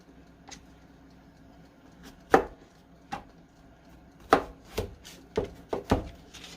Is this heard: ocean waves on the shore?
no